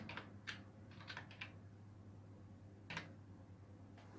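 Faint keystrokes on a computer keyboard: a few quick clustered taps, a pause, then a couple more isolated clicks over a low steady hum.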